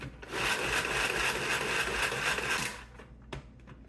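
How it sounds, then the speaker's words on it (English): A food processor blade whirs and chops through rosemary in a steady grinding burst of about two and a half seconds, then stops, leaving a few faint knocks. "I think I'm going to just give it a few chops because I really want that."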